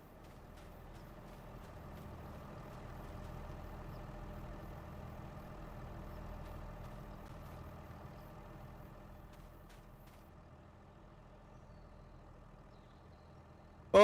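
A tractor engine in Farming Simulator 25 rumbles at a steady low idle for the whole stretch, a continuous droning hum with no talk and a brief click at the very end.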